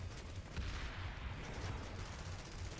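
Muffled, continuous gunfire from Planetside 2 rumbles and pops in a steady barrage, seemingly distant, with a low thudding pulse throughout and no speech.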